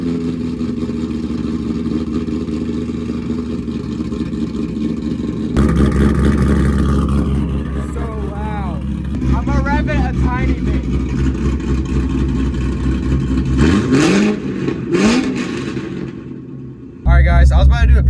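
A cammed C5 Corvette with straight pipes fires up from cold, its engine catching with a loud jump and then settling into a rough, loping idle punctuated by revs, while someone talks over it.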